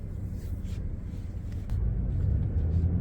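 Car driving through the streets of Kaukauna, Wisconsin, heard from inside as a steady low engine and road rumble that grows slightly louder partway through, with no talking.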